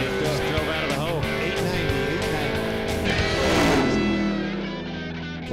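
Drag racing car launching hard down the strip at a drag racing event, a loud sustained engine roar that rises and sweeps in pitch as it pulls away, with people talking over it.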